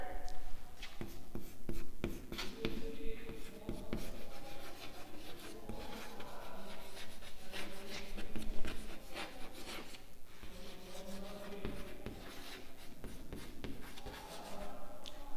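Steady, rough rubbing of chalk writing on a board, continuing for the whole stretch with few gaps, like a rasping scratch with faint background noise.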